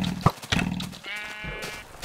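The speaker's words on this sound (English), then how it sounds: "Oh, get out of here, sheep." Minecraft sheep bleating, with a sharp thump followed by a couple of close, wavering bleats that trail off.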